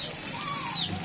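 A rooster clucking at a Javanese market, a steady run of close clucks over busy crowd and market background noise.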